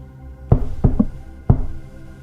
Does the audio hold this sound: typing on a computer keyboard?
no